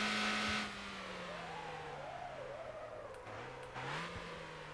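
Race car engine in the Motor Town driving game, revving and shifting through a lap, with a steady drone rising and falling as it accelerates and brakes, plus a brief tire squeal near the end; no talking.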